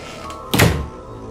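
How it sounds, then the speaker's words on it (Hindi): A heavy door in a haunted mansion slams shut on its own, a single deep thud with a short rumbling tail, loud and close against a quiet, faintly humming background. "जैसे ही वे हवेली के अंदर जाते हैं, दरवाजा अपने आप बंद हो जाता है।"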